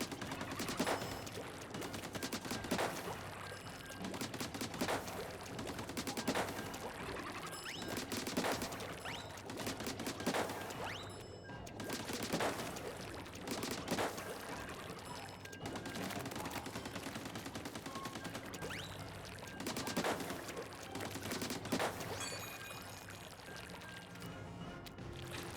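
Squelcher weapon firing repeatedly in the Splatoon video game, steady bursts of splattering ink shots pulsing every couple of seconds over continuous game music, loud throughout.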